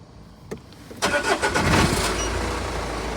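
A camper van engine cranking and catching after a battery diagnostic with a jump-start device, a brief starter whir followed by a loud, steady idle rumble close by.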